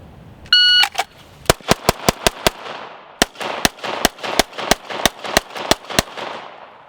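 A string of sharp, loud gunshots from a near-far shooting drill: a quick burst of close, rapid shots, a brief pause, then a second evenly spaced run of shots, preceded by a shot-timer beep.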